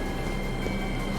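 Train at a platform in the video game 13 Sentinels: Aegis Rim, a steady, dense rumbling hum of rail noise held at an even loudness throughout, with no voices over it.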